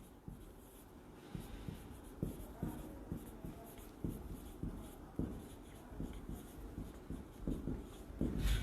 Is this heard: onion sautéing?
no